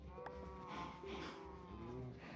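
Minecraft cows moo several times in quick succession, low drawn-out lows that are fairly faint and close together, with no talking over them.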